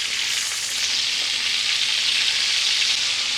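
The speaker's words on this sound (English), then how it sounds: "Now I'm gonna cook the squash." Squash sizzling in a pan of beef tallow, a loud, dense, steady hiss with no pauses and no voices.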